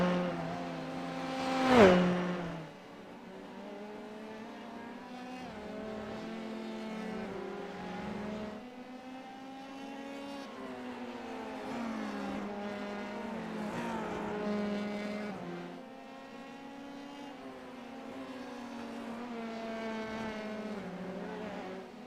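Race car engines in a sim racing league race, a loud whining drone that rises and falls through gear changes with a sharp shift at the start, sustained and alone without talk.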